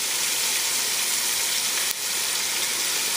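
Biryani spices frying and being stirred in a pan, a loud, continuous broadband sizzle with one brief dip partway through and no voices.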